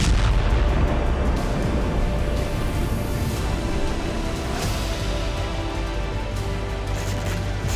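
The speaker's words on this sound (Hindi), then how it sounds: "आर्मर्ड व्हीकल पर बैठकर यूक्रेनी soldiers large calibre machine gun से रूसी ट्रूप पर आग बरसा रहे हैं" Large-caliber machine gun fire from an armored vehicle in the fighting around Bakhmut, Ukraine, a dense continuous roar of rapid shots and blasts, loud and unbroken, with no voices.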